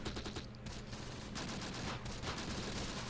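Repeated gunfire from an Italian Semovente self-propelled gun in the Close Combat strategy game, rapid bursts and crackling shots running together in a dense, continuous barrage of moderate loudness.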